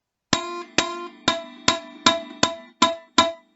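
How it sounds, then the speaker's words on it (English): A beginner's guitar note, fretted with the finger too far from the fret, picked eight times in a steady rhythm, each pluck sharp and close with a short buzzy ring. "it's because you got your finger too far away from the fret"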